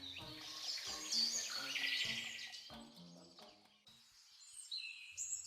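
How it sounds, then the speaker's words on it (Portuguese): Birds sing in a forest, with bright overlapping chirps and warbling phrases near and clear, plus a brief pause before more calls start up again. "As aves não param de cantar."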